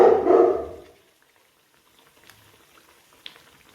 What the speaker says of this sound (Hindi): इस तरह से हम एक तरफ से सिकने के बाद पलटकर मीठी पूड़ियों को तल लेंगे।